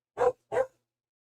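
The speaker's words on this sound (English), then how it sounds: "there's a dog in the background" A dog barks twice in quick succession in the background during a Them's Fightin' Herds tournament stream, two short, sharp, fairly loud barks with silence after.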